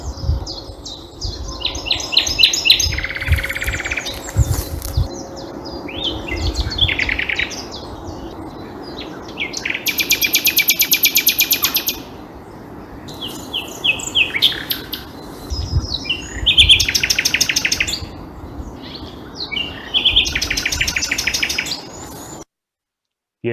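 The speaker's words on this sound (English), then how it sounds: "here's Mo's Nightingale" A nightingale in Essex sings in April, loud and close, with varied bursts of rich whistles, rapid trills and buzzing phrases separated by short pauses, over a low rumbling background and no talk.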